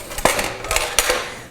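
Metal V-rack roasting insert is set into a regular metal roasting pan, giving a few sharp, close clanks and light metallic rattles.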